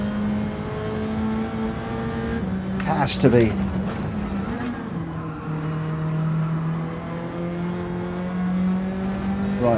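Race car engines in Gran Turismo 7 drone steadily at high pitch throughout, with a brief burst of shifting engine sound near the middle, under continuous close talk.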